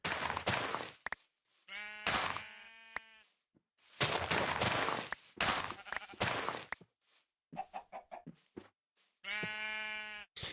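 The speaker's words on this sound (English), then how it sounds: "Oh, it's a sheep. Hello, sheep." Sheep in Minecraft bleating, several distinct wavering baas spaced apart, loud and close, mixed with clicky game sounds and short thumps between them.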